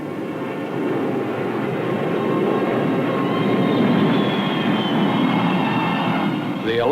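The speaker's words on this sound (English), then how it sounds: "The alert is over and the aircraft return to their bases." Military aircraft returning to base after a 1961 U.S. Air Force alert drone past in a broad, steady roar that swells slightly and holds, with a faint voice underneath.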